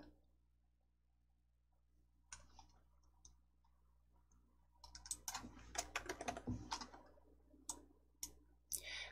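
Keys tap and clicks sound at a computer, quiet and close. Sparse taps give way to denser, irregular bursts of typing and clicking in the second half, with no talking.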